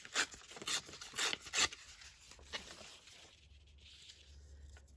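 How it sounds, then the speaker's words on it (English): Damask paper is torn by hand in a crafting setup, several quick rasping rips in a row near the start, then fading into quiet rustling and faint background hum. "I'm just going to tear this down"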